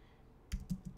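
A computer keyboard typing a short word: a faint lead-in, then about five quick, close keystrokes in an uneven rhythm.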